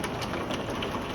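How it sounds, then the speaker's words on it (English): Heavy rain pours down during a March thunderstorm, a steady close hiss of drops drumming on surfaces, unbroken and loud for the whole moment. "But you can see how much the rain is coming down all of a sudden"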